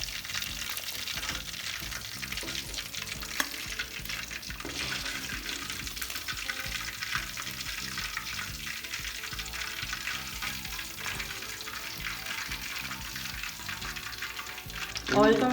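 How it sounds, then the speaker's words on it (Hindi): Pieces of fish for a Lahori-style fry sizzle steadily in hot oil, a dense, continuous crackle that holds up close for the whole stretch with no voices over it. "बड़ी मज़े की क्रिस्पी फ़िश तैयार हो रही है"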